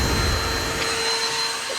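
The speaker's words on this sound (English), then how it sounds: "The return of the vacuum." A vacuum cleaner runs close by with a loud, steady whine and airy roar, briefly dipping slightly in the low rumble.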